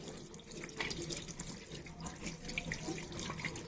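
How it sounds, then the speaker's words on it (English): Hands rinsed under a running tap, a steady close splash of water into a sink with small shifting spatters throughout. "And now rinse your hand nicely."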